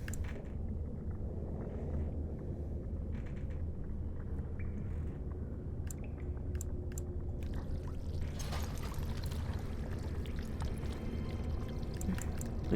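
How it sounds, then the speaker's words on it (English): Water poured to fill a jug in Dragon Age: Origins, a steady rushing pour with low rumble running the whole way, fairly loud and continuous, with a brighter splashing stretch near the end. "I'm going to fill the water up."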